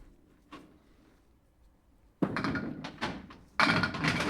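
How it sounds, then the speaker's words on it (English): Candlepin bowling at Leda Lanes during league play: a faint early knock, then a sharp loud crash of the ball scattering the pins for a strike, followed by further clattering knocks as pins tumble and settle. "And Steve Kelly opening up with a strike."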